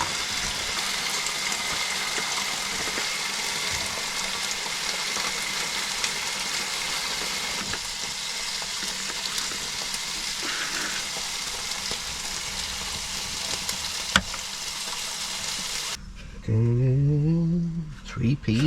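Food sizzles steadily in a Ridge Monkey pan over a camping gas burner, a continuous close crackling frying hiss; near the end it cuts to a different, quieter scene with a tonal sound.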